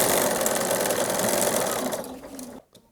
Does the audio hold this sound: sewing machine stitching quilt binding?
yes